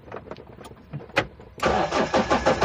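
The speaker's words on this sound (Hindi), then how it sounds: "मैं अब न्यूट्रल करके अपनी गाड़ी को अब स्टार्ट करने जा रहा हूं" A Mahindra Scorpio engine cranks briefly after a few faint clicks, then catches and settles into a loud, steady idle close by.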